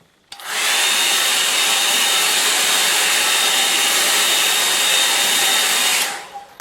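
A hair dryer blows over a wet watercolour painting, switching on abruptly and holding a steady loud whirring hiss for about six seconds before cutting off.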